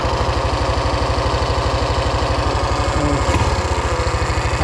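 A Rokon 2WD motorbike fitted with a 223cc Wildcat engine runs steadily up close, its loud, even low throb continuing without a break and with no voices.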